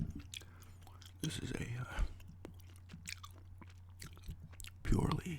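Close, soft gum chewing with wet mouth clicks and smacks over a low steady hum, broken by a brief whispered voice near the start and louder chewing bursts at the end.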